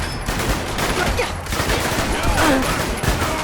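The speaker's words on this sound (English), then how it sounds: "I can attest to just how realistic these weapons sound" Rapid bursts of weapon fire from the video game Fallout London, dense and loud throughout, with overlapping shots and a busy combat background.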